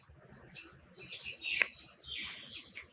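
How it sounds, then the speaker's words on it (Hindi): Small birds chirp and tweet in quick, overlapping bursts, fairly faint and slightly distant, with no talk over them. "द बर्ड, चिड़िया लोग मुझे कुछ ना कुछ मैसेजेस देना चाहते हैं गाइस"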